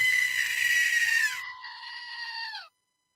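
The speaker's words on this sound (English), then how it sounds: "And it is a screaming goat." A screaming goat novelty toy lets out one loud, drawn-out shrill scream lasting about two and a half seconds, its pitch dropping slightly at the end before it cuts off into silence.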